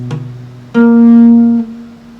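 Single strummed guitar chord for a song, with the top E string muffled by the first finger; a faint pluck comes first, then one bright, ringing chord that sustains about a second before being damped.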